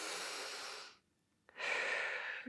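Slow breaths taken while holding a Pilates stretch: one long, steady breath, a short quiet gap, then another strong, airy breath, heard close up with no talk.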